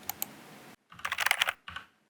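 Fingers tap out numbers on a computer keyboard, heard as a couple of sharp keystrokes and then, after a short pause, a quick cluster of close, crisp clicks, with a last brief burst.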